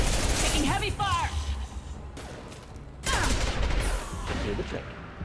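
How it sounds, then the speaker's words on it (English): Heavy gunfire in the video game Mass Effect 2, dense bursts and impacts in a steady loud barrage with a brief lull midway, alongside mechanical clanks and faint game voices. "Taking heavy fire!"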